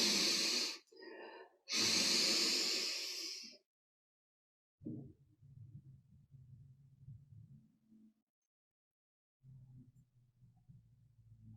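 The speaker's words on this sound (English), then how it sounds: "Take a double inhale." Deep meditative breathing with a double inhale: two sharp, loud breaths drawn in close together, then pauses and slower, softer, airy breaths with quiet gaps between them.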